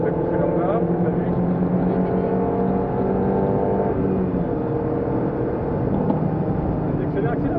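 A Peugeot 206 S16 race car engine on the track at Clastres gives a loud, continuous, buzzing drone heard from inside the car, holding steady with slight rises in pitch as it accelerates, with a coach's voice faintly under it.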